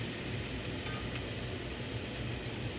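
A steak sizzles and fries steadily in a hot pan just after being flipped, a constant close hiss with no talking over it.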